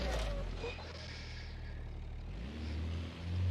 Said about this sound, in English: that has got to be the best sounding boxer engine